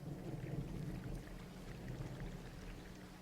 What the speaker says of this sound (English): Hey, I heard some thunder.